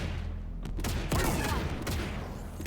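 Rapid bursts of gunfire from a mounted gun in a video game, with dense sustained firing and a sharper surge near the middle, steady and fairly loud throughout with no talk.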